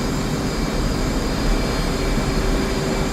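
A jet aircraft engine in the DCS flight simulator at around 130 knots produces a constant loud roar with a thin steady whine, unvarying and with no voices.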